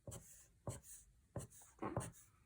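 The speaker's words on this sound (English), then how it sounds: "draw every small line at the very end" A pen scratches short lines onto paper for a walrus drawing, four quick separate strokes at an even pace, close and quiet, each a brief dry scrape with pauses between.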